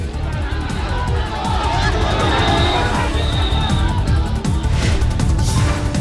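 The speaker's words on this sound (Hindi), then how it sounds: "काठमांडू की सड़कों पर हाथ मिलाने के लिए उमड़ी भीड़।" A dense crowd thronging the streets of Kathmandu, pressing forward to shake hands with Prime Minister Narendra Modi, fills the air with a loud, steady wash of overlapping voices and bustle.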